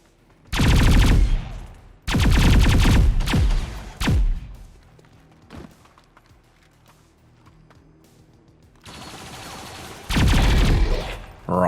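Bursts of automatic gunfire in the turn-based tactics game XCOM 2, several loud rapid volleys separated by quiet gaps, with a couple of single shots and thuds between them.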